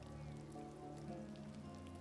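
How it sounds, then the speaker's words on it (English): A summer rain falls in a steady, soft patter on the ground during a funeral procession, continuous and even with no voices. "A summer rain fell on the cortege."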